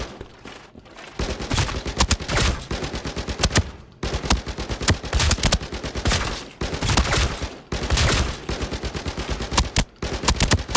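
Rapid assault rifle fire in the shooter game Arena Breakout, loud and close, in repeated automatic bursts with short pauses between them and no talking.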